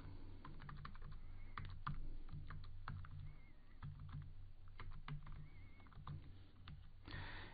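Code being typed on a computer keyboard, quiet, close, irregular clicking keystrokes in short bursts with a faint room hum underneath.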